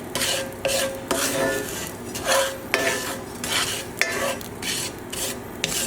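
A utensil stirs small butter pellets melting in a pan over a low to medium flame, giving repeated scraping strokes and light metallic clinks over a soft sizzle, close up with no talking.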